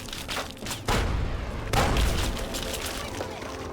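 A Mark V turret firing in Fallout 3, heavy booming shots punctuating the mix, with two loud blasts standing out over steady background rumble.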